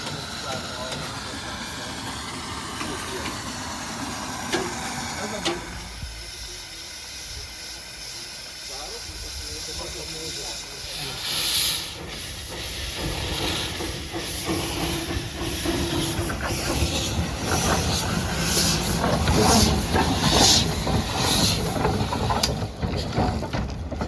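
Narrow-gauge steam locomotive Triglav on the Kemence forest railway, with loud steady steam hiss and mechanical clanking that rises toward the end, while a person talks over it for much of the time.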